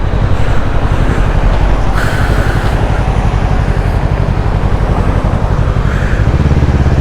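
Loud, close motorcycle engine under way on a road, a continuous throbbing drone with pulsing low rhythm and some wind noise, steady throughout with no talking.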